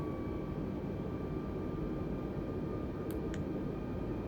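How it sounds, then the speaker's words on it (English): Steady broadband aircraft engine drone from Microsoft Flight Simulator 2020 during a Hong Kong flight, a constant low rumble with a faint whine, two brief high clicks near the end, no talking. "This aircraft sounds pretty good too."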